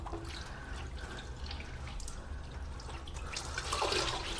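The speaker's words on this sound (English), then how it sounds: "Water splashing on your exposed feet." Water splashing and dripping around bare feet in a spooky horror video game, soft trickling and drips over a low rumble, swelling into a louder splash near the end.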